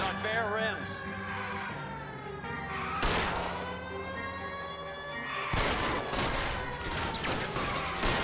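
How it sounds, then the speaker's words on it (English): Video game gunfire in rapid bursts, sharp repeated shots at the start and again near the end, over an engine and siren-like drone, with people talking throughout. "You fired so many bullets."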